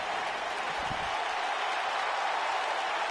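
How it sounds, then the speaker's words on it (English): Audience at a WWE Survivor Series 2018 event claps and cheers, a dense, continuous wash of crowd noise and applause filling the whole stretch at steady loudness. "why aren't you clapping?"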